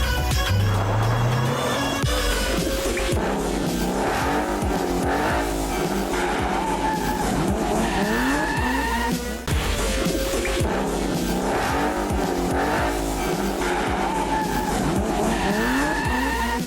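An off-road race car roars continuously with revving engine and repeated tire skids and squeals, loud and close throughout with no talk.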